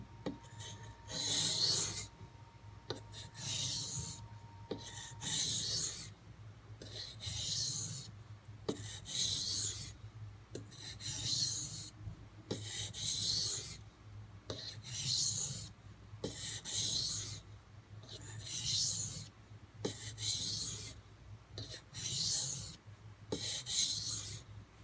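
A knife is stroked back and forth on a Norton water stone in alternating passes, making a steady rhythm of close, raspy scraping strokes, roughly one every second or so, with no talking.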